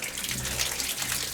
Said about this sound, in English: when I'm turning on my water now, you should have running water.